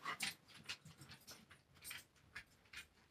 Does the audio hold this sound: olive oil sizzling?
no